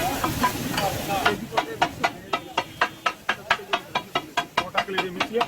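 Chicken liver (kaleji) fries on a very large tawa, sizzling steadily while a metal spatula strikes the pan in a quick, regular knocking rhythm, with people talking in the background at first.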